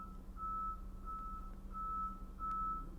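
A truck's reversing alarm beeps four times in a steady, even rhythm, each tone held about half a second, moderately distant over a low engine rumble.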